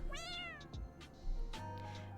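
Cat meows from the Heart Cage visual novel game: two drawn-out, rising-then-falling meows, close and clear, with nobody speaking.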